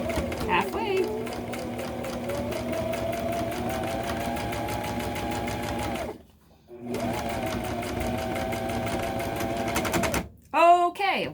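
A sewing machine stitches a backpack with pink thread in a steady, fast mechanical run that stops briefly, restarts, then cuts out near the end, followed by a short whirring burst.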